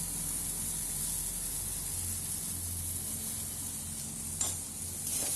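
Onions seasoned with salt and turmeric fry in a pan, giving a steady, soft sizzle with faint scraping of stirring throughout, fairly quiet and continuous, with one small clink near the end.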